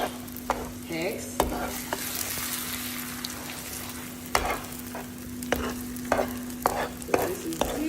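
Free-range scrambled eggs cooking slowly in a pan, a steady low sizzle broken by repeated sharp clicks and scrapes of stirring, close up with no talk and a faint constant hum beneath.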